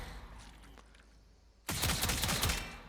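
Rapid automatic gunfire from the Tenent Tetra rifle in Warframe bursts in loud and dense after a quieter stretch, a continuous stream of close shots.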